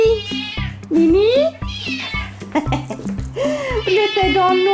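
A big kitten left alone in the dark meows loudly and insistently in repeated drawn-out cries, close by, while someone speaks over it.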